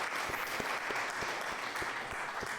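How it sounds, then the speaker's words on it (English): A crowd claps steadily in a dense round of applause, with a faint regular thumping underneath throughout. "A round of applause for Bishop for coming in today."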